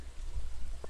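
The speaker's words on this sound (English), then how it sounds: "Rainy day, rainy day." Steady rain falls in the video game Stardew Valley, a soft continuous patter with a low rumble beneath and a brief tap near the end.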